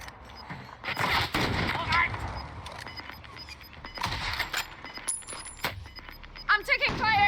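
Bursts of video game gunfire crackle through a livestream, with rapid shots and impacts arriving in clusters while players talk over the action, followed by a few bright chiming effects near the end.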